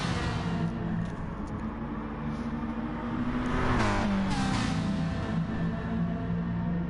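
Gr.4 race car engines in a sim racing game on the BMB infield circuit, a steady dense drone of a pack of cars with a rising, revving pass midway, continuous and fairly loud throughout.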